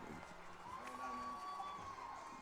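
A football crowd roars and cheers steadily as the Newnan Cougars take the field against the Northgate Vikings, dense and continuous, with shouting voices mixed in.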